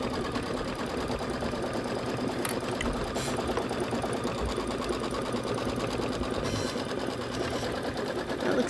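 A computerized embroidery sewing machine stitching a white quilting stitch on a Kimberbell holiday project, a steady rapid mechanical whirring and needle chatter, close and continuous with no talk.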